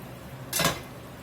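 A metal lid clanks once onto a cooking pot of simmering Cajun jambalaya, a single brief, fairly close clatter in an otherwise quiet kitchen.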